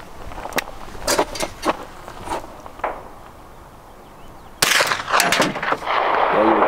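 A new recoilless gun fires several sharp, spaced shots outdoors, with quieter noises between them, then a louder burst of broadband noise that fills the final seconds. No one talks.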